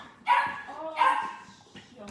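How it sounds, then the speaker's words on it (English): A puppy gives two close, high yappy barks about a second apart, followed by a fainter third yip. "It's naughty puppies"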